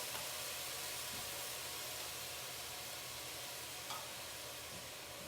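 Shrimp in liquid sauce reducing in a pan, a faint steady hiss and sizzle with an occasional soft clink, even and continuous, no talking.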